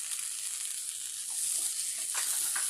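Chopped tomato sizzling in hot oil in a kadai over a low flame, a constant bright hiss with a few soft pops and stirring scrapes near the end.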